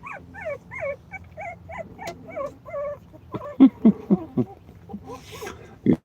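A mother dog whimpers in a series of short, high, rising whines, then gives a few louder yips and low grunts close by.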